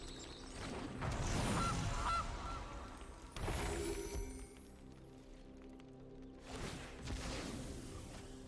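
Gilded Goose card in the MTG Arena video game giving cartoon goose honks, three loud squawking bursts spaced a few seconds apart over a low background.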